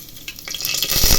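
Spices crackling and sizzling in a tablespoon or two of hot oil for tempering, with mustard seeds and bay leaf added to the pan, building from quiet to a steady, bright, close sizzle.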